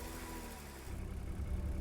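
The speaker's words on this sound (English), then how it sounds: "Start the engine." A car engine in a survival horror game turns over and settles into a low, rumbling idle that grows slightly louder and rougher near the end, heard alone.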